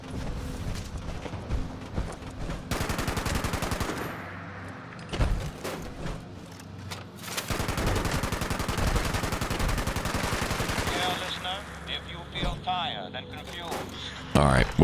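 Heavy automatic gunfire from a buffed heavy gun in a shooter game's Mischief Night event, sustained bursts of rapid shots with brief pauses, loud and close, with a voice talking over the firing.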